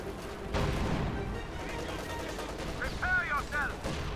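Bursts of gunfire and explosions in a Company of Heroes 2 World War II strategy match, a loud blast followed by scattered shots and a rising whine, steady battlefield din throughout.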